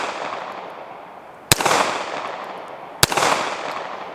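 Two sharp, loud shots from a Browning Hi Power pistol fired at a red steel plate 60 yards away, evenly spaced about a second and a half apart, each followed by a short outdoor echo; no one talks.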